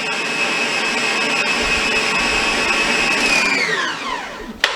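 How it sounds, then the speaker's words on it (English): An electric mixer whirs steadily as its beaters whip powdered sugar frosting in a bowl, a loud constant whine that winds down in pitch near the end and stops with a small knock. "So I just put in my 2nd cup of powdered sugar, and we're just going to let this beat until everything's mixed together and smooth."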